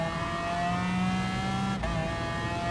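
A McLaren F1 GTR racing engine in Gran Turismo Sport on the Sardegna Road Course, a steady high whine that breaks briefly for a downshift and then climbs again under acceleration, loud and close with no voices.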